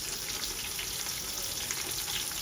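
Ginger garlic paste with onions frying and being stirred in a pot for Hyderabadi bagara rice, a dense, even sizzling hiss with faint stirring scrapes beneath, close and steady.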